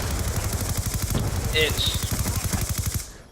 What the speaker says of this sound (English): It's one of the best submachine guns by far.